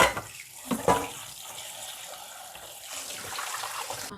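Water pours steadily over tofu skin being prepared for cooking, a continuous close splashing rush with a few louder splashes near the start, and no talking.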